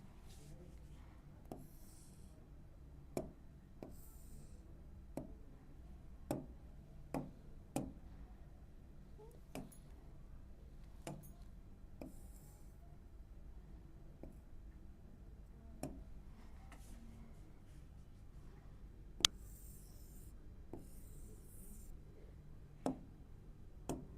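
Pen or marker tapping and scratching as a hand-drawn diagram is sketched during a chemistry lesson, faint ticks spaced irregularly over a quiet room hiss, with a few soft rubbing strokes.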